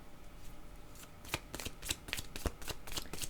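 Playing cards are shuffled close by in a quick run of crisp riffling bursts, building through the second half, quiet and alone with no talk.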